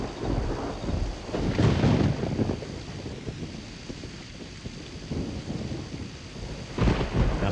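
Thunderstorm ambience in the game Asheron's Call: steady rain and wind with two loud rumbling thunder swells, one early and one near the end, no voices.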